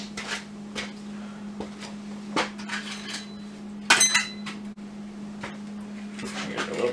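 Metal bolts clink and tap into a small magnetic dish during work on a 2009 Yamaha RS Venture GT, giving scattered sharp clicks with a brighter cluster partway through over a low steady hum.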